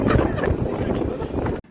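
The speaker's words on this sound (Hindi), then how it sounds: "यहाँ पे जो हवा चल रही है ना इस टाइम" Wind gusting across open ground beside a river, a steady broadband rush with low rumble close to the microphone, cutting off abruptly near the end.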